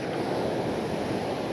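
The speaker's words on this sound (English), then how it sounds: "notice some pretty large waves for this side of the island compared to the last video" Large ocean waves break and wash at Manchebo Beach, Aruba, a steady, loud roar of surf mixed with wind buffeting close to the microphone.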